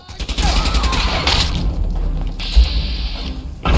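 Gunfire in a Fallout 4 gunfight, loud bursts of shots and heavy thumps over a continuous rumble, with a sharp impact near the end and brief mechanical clicks between volleys.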